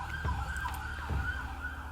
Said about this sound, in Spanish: mientras iba pasando esta ambulancia de fondo